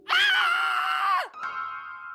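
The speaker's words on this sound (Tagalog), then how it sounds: "Bakit ka sumigaw, Eloisa?" A woman lets out a loud, sustained scream in a Filipino horror audio drama, holding it about a second before it drops off, followed by a softer ringing tone.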